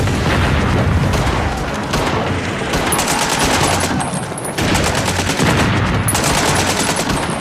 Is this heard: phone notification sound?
no